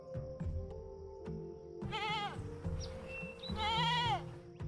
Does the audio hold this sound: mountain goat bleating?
yes